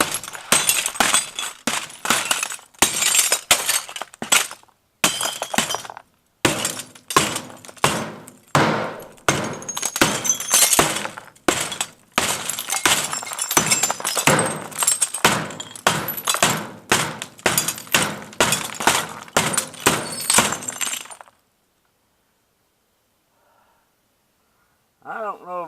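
Double-layered glass is struck and breaks in a long run of loud, close, irregular crashes and thuds lasting about twenty seconds, ending in near silence.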